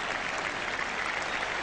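A Yorkshire cricket crowd applauds Geoffrey Boycott's Test century against Australia in a 1977 England Test match, with steady, dense clapping throughout and no breaks.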